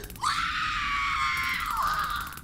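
A woman lets out a long, loud, high-pitched scream that holds steady for about two seconds before sliding downward, alone with no talk over it.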